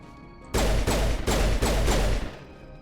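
Gunfire in the game Mass Effect: four loud, sharp blasts in quick succession, each with a brief decaying tail, close and alone.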